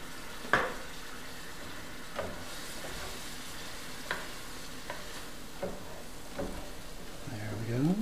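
Mushroom duxelle simmers in heavy cream and butter in a pan with a soft, steady sizzle, punctuated by a few light clinks and stirring scrapes of a utensil.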